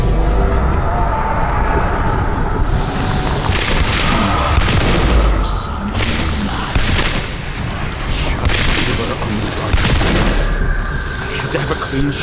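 Loud gunshots ring out in the video game Nobody Wants to Die, with several booming reports over a dense, rumbling game soundscape as voices talk throughout.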